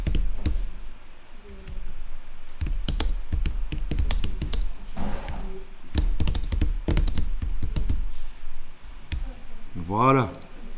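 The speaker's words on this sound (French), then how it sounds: "Vous allez taper un slogan par exemple pour votre illustration." A slogan is typed out on a computer keyboard in quick, irregular clusters of close key taps, while a person speaks French over and between the keystrokes.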